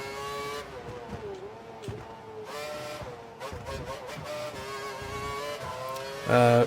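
A Formula One race car in the F1 2012 video game slides on a damp, wet track, its high engine whine rising and falling with gear changes, with a sharp loud burst near the end.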